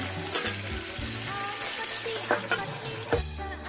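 Salted peda fish cooks in seasoned oil in a covered pan, giving a steady close sizzle and bubbling with a few sharper spits and pops throughout.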